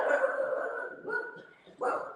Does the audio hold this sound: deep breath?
no